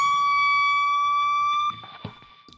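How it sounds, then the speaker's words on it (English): A sustained electric guitar note bent a full step plus a quarter at the 18th fret of the high E string rings steadily and loud, then is muted, leaving faint handling clicks. "What I actually do here is I do a full bend,"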